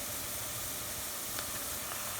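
Onions with ginger garlic paste cooking in a pan over a high flame give a steady, soft hissing sizzle, even and continuous, with a faint clink near the end.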